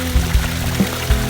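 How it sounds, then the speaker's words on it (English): Fast-flowing water from a pump moving about 3,200 gallons per hour, a steady pouring rush with a few low thumps, close and continuous without talk. "the water is now flowing really fast"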